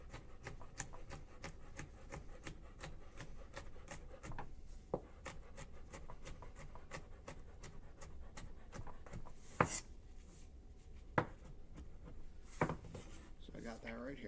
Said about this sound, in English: I'm going to take half of this serrano, and I'm going to chop it really small